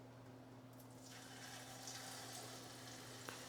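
A cornbread patty fries in hot grease with a steady soft sizzle and crackle, low and continuous, with a faint hum underneath and no talking.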